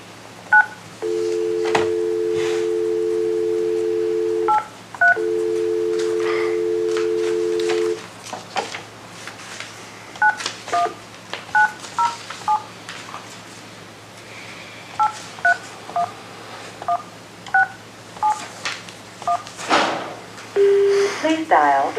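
A run of telephone keypad tones dials an authorization code on a conference line during a planning and zoning meeting: two long steady tones, then many short beeps in quick irregular bursts, clear and close, with brief voices between them.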